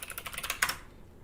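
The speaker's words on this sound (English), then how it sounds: "I'm going to go to Google and type in how to learn programming" A quick run of keystrokes on a computer keyboard while a web search is entered, about a dozen close, light clicks in a steady rhythm ending on a slightly louder key press.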